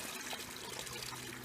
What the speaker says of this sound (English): I'll just put some more water in it, so I could suck the bottom out, because it's on bedrock